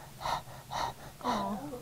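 A voice imitates a pet hyena panting in the heat: three rhythmic, breathy huffs, close and fairly loud, with a slight vocal tone on the last.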